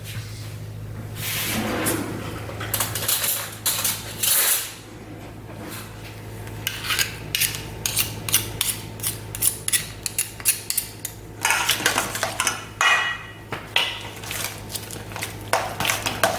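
A flatbread spread is mixed in a bowl, giving repeated scraping and rubbing strokes of a utensil against the bowl, close and fairly loud, in bursts with brief pauses.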